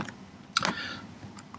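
A computer keyboard Enter key is struck, a few crisp close clicks, with one sharp double tap in the middle and lighter taps near the end, in a quiet room.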